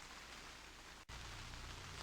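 Steady rain drums on a polytunnel, a dense continuous hiss with a brief dip midway, no voices.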